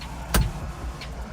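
A single sharp click as an LED bulb cap snaps into place in the interior light fixture of a 2010 Chevy Tahoe LTZ, close and brief against a quiet cabin hum, followed by a fainter second tick.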